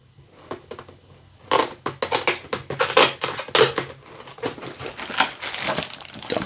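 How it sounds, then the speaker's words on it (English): Tape peeled and tugged off the knife of a Kotobukiya Michael Myers figure, a run of close crinkly, scratchy rips and crackles in quick uneven bursts. "And the knife is actually kind of taped down. So you do have to kind of peel the tape."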